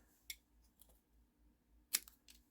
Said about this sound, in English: snip that off